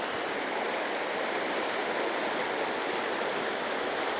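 A fishing stream rushes in a loud, steady, unbroken wash of flowing water, heard close and alone.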